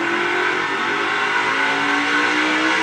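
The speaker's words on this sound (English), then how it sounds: "Back up through the gears they go." NASCAR Cup Series cars accelerate hard through the gears at Texas during a playoff race, a loud sustained engine roar with rising pitch filling the whole clip, no voices.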